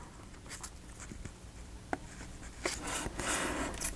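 Paper for a handmade book-page journal folded by hand at close range, quiet rustling and creasing with a few sharp taps, louder scraping toward the end.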